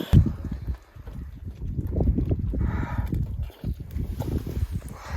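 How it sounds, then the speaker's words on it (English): Wind gusting across a campsite in Snake River Canyon, Idaho, producing a low, rumbling buffet against the microphone that holds steady with a few brief lulls. "We've got a little wind"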